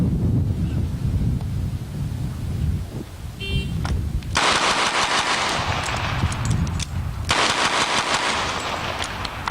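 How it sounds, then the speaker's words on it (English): Twelve rapid gunshots fired at a target on the left, delivered in two quick strings of sharp reports over a steady outdoor wind rumble, with no talk. "Target on the left, 12 shots."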